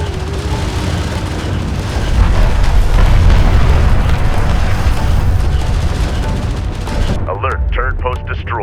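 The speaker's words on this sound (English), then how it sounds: "One of our turrets is taking fire" Gunfire hammers a turret in Homeworld: Deserts of Kharak, a dense, loud barrage of booming shots and blasts rolling continuously for several seconds before cutting to a voice speaking near the end.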